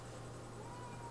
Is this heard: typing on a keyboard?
no